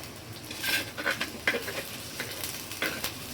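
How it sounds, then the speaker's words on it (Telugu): Ginger garlic paste frying in a pan for a fish curry, a steady sizzle punctuated by several sharp scrapes and clinks of a spoon stirring against the metal, close and fairly loud. "ఇప్పుడు అనేది అల్లం వెల్లుల్లి పేస్ట్ అనేది బాగా వేయించాలి"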